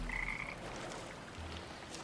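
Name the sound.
frogs croaking in the video game Arknights Endfield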